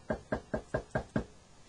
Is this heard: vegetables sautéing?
no